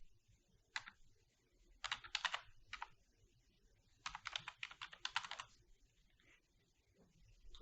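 Keyboard typing while renaming a level sequence in Unreal Engine, quick clusters of crisp key clicks in two main bursts with pauses between them, close and quiet, with no talking.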